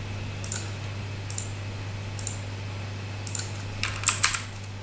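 A few quick bursts of typing on a computer keyboard as a folder name is entered, light clicky keystrokes spaced in short clusters over a low steady hum, the last burst the loudest.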